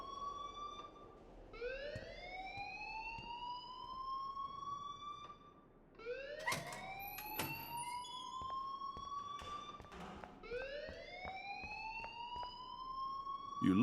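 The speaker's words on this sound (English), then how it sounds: "please turn off that alarm since that's your job" School alarm in the video game Life is Strange, a rising electronic siren wail that sweeps upward repeatedly in long cycles, moderately loud with a brief dip midway.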